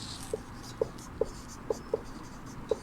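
A teacher writes a word on a classroom board, giving a series of short, distinct taps and scratches spaced irregularly over a faint room background.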